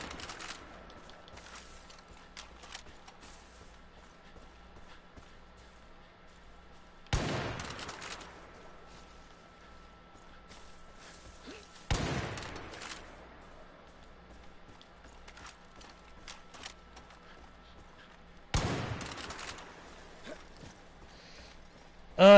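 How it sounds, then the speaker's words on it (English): Gunfire in the video game Far Cry 5 Arcade: three sharp, loud shot bursts spaced several seconds apart, separated by quiet stretches of low game ambience. "As I try to fire bullets and make sounds and get attention from any enemy that's willing to listen."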